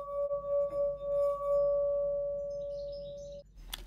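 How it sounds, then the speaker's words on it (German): A wet finger rubs the rim of a thin-walled glass partly filled with water, drawing out one clear, steady sustained tone that holds for over three seconds before stopping, followed by a small knock. "Wir testen einmal ein paar dünnwandige Gläser, füllen sie ein bisschen mit Wasser, befeuchten dann unseren Finger und reiben oben auf der Oberfläche lang."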